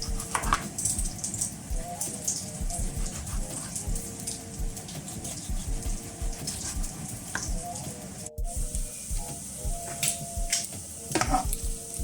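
Bacon sizzles and crackles in a pan while a cook prepares a BLT sandwich, giving a continuous dense hiss with scattered pops and occasional utensil clatter.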